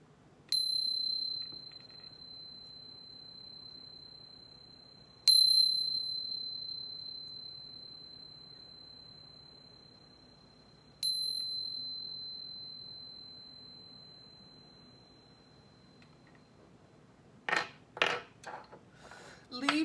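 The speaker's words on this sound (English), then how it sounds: "But first, let's chime." A bright metal chime is struck three times at even intervals, each clear tone ringing out and slowly decaying, followed by a few quick softer clinks.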